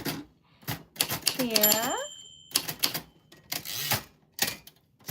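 Typewriter keys clack in quick irregular bursts, close and crisp, mixed with a carriage bell-like ding and the return, all under a person talking throughout a livestream.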